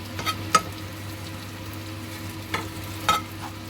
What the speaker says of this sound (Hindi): इस पर मैं तकरीबन 1 टेबलस्पून ऑयल ऐड करूँगी। बहुत लाइट सा इसको रोस्ट करेंगे।